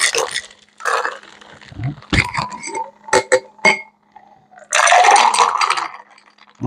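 Cocktail shaker shaken briefly while mixing a Lemon Drop, giving scattered ice rattles and clinks followed by a dense burst of rapid shaking near the end.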